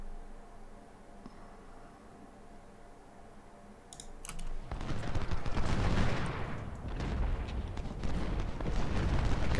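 Civil War infantry musket volleys in Ultimate General: Civil War at Second Winchester: a low ambient hum, then from about four seconds a loud, dense crackle of massed rifle fire that keeps rolling, with no talk.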